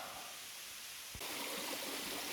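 Saka waterfall flowing over the cliff edge at the Saka manor trail in Estonia: a steady, broad rushing roar of falling water, close and loud, swelling slightly stronger halfway through, with no talking.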